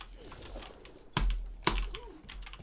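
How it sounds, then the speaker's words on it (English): A single computer keyboard struck sharply twice in quick succession during an Overwatch game, two loud clacks against quiet background with faint talk. "Oh, I hit my keyboard."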